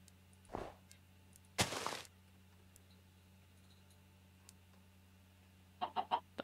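Chicken clucking in a video game, heard as a few faint, scattered bursts with a short rapid run of clucks at the end, over a quiet background hum and no talk.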